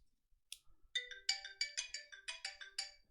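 A phone chimes as an incoming SMS test message arrives: a bright, clean melodic notification of about ten quick rising and falling tones, near and clear against near silence, with no talking.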